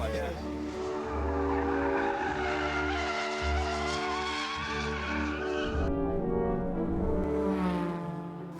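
Race car working through a curve at a driving academy, loud engine drone with shifting pitch and squealing tires, cutting to a lighter whine partway through, with a voice talking over it.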